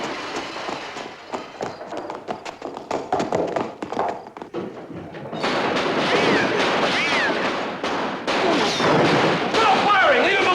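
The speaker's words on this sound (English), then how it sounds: "Stop firing!" Gunfire from a 1958 science-fiction film, a rapid run of sharp shots crackling for several seconds before giving way to a louder, denser burst of noise and commotion, with voices shouting amid the clamor.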